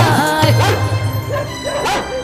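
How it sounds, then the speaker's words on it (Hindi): A dog gives several close yipping barks over a low sustained hum, with short irregular gaps between them. "ये कुत्ता मन लगाकर भौंको ही जा रहा है, भौंको ही जा रहा है"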